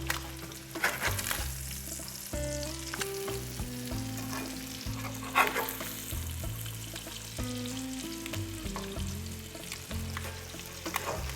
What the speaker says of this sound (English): This is a relatively small speckled trout too, so it's not going to take long for it to cook